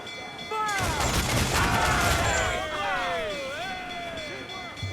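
Ship cannons fire during a naval battle against a brig in Assassin's Creed IV, a loud broadband volley swelling into a dense, sustained roar of blasts and battle noise with shouting voices and sweeping tonal effects layered over it.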